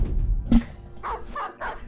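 A dog barks in the fantasy battle game Battle Brothers, a few gruff barks and yelps spread over about two seconds, close and clear, with no talk.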